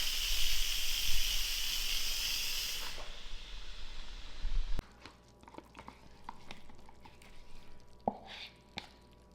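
An Instant Pot pressure cooker venting steam with a loud, steady hiss that cuts off abruptly partway through, leaving quiet kitchen clatter and small clicks.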